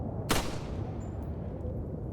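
A single gunshot rings out in the video game Resident Evil 4, one sharp loud crack over a steady wind bed, then quiet ambience.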